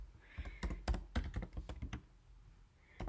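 Keys clatter on a computer keyboard as code is typed, a quick irregular burst of close, crisp clicks that pauses briefly before a final tap.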